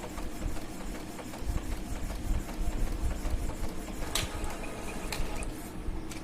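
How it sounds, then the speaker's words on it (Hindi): A printer working through a print job in a room, its mechanical whirr and rapid ticking of the moving print head running steadily throughout at moderate level, without any talk. "प्रिंट शुरू हो चुका है।"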